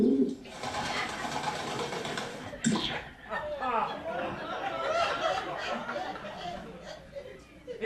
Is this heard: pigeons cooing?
yes